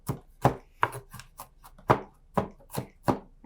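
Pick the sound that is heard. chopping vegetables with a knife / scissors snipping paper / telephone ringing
chopping vegetables with a knife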